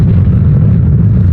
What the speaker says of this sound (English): it can fly towards their targets, creating a nuclear explosion upon impact